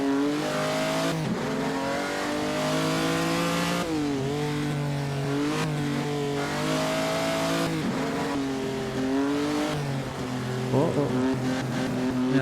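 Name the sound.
race car engine revving in the video game Assetto Corsa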